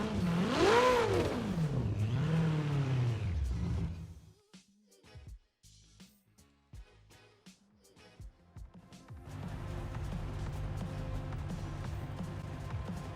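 A Ferrari 488 Pista in Forza Horizon 4 fires up and revs hard, its engine surging and falling in loud sweeps, then dropping to sparse clicks and blips before settling into a steady idle.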